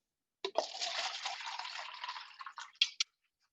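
A mixed drink is poured at house-party strength into a red Solo cup, a close, steady liquid stream lasting a couple of seconds and ending in a few short splashes and drips.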